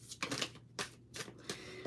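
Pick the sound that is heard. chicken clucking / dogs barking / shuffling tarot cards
shuffling tarot cards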